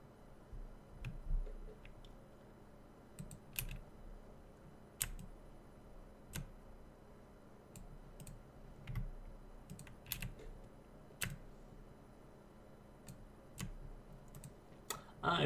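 Computer keyboard keys and a mouse are pressed in scattered bursts of soft, close clicks and taps, irregular and fairly faint over a low room hum, with a slightly louder cluster at the very end.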